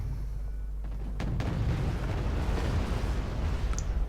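Bombs, iron or cluster, explode in the Cold War strategy game WarGame: AirLand Battle as a heavy rumbling barrage of deep booms and crackling blasts that builds and holds loud over several seconds.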